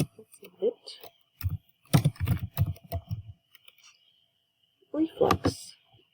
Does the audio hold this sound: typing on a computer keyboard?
yes